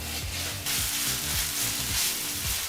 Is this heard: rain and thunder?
no